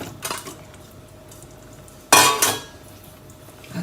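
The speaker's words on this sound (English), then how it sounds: "Now we'll add in our veggies. I'm adding it all in." Vegetables tipped into a pot of lamb stew, a near clatter of utensil against pot with a loud scrape and tumble midway and softer clinks before and after.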